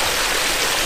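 Water pours steadily from a waterfall diffuser into a long stream in a landscaped backyard pond feature, a close, loud, continuous rush and splash with no break.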